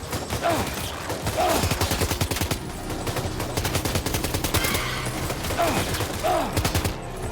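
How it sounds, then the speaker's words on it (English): Dense gunfire in the Death Stranding 2 video game, rapid automatic bursts hitting the player almost without pause, loud and sustained with brief whooshing accents throughout. "Oh, I'm getting real shot."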